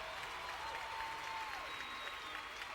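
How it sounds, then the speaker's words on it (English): An audience claps steadily for nearly three seconds to welcome a guest. The applause is faint and evenly spread, with no single claps standing out and no voices over it. "Big welcome to Darnell. Applause."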